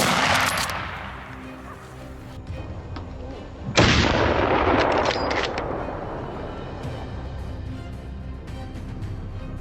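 Gunfire aimed at invasive wild boars at night, one sharp loud shot with a long booming tail, after earlier fainter cracks and rumbling, with no talk.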